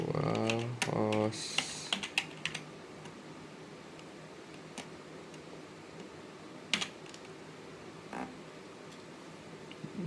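Rapid bursts of computer keyboard typing open the scene, followed by scattered single key clicks spread through quieter stretches, with a voice speaking briefly over it.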